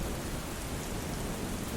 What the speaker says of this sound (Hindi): इतना तेज तूफान, 1 मिनट में भीग गया वो